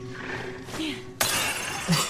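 Glass shattering in the Resident Evil Requiem video game, with a sudden bright crash partway through followed by a spray of tinkling fragments, loud and close over low game ambience.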